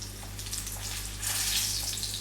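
Zucchini slices frying and browning in a pan with salt and pepper, a steady close hiss of sizzling oil that swells louder partway through.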